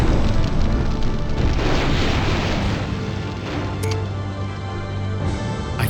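A mine blast strikes a large group of mechs in the MechCommander strategy game: one loud, sustained booming explosion with a rumbling tail that runs the full length without pause, and no talking.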